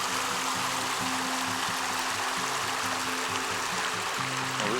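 A stream of flowing water runs beside a hiking trail on an Arizona thru-hike, with a steady broadband rush throughout and a low, uneven murmur beneath it.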